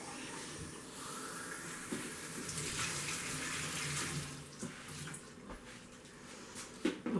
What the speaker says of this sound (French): je rajoute un peu d'eau chaude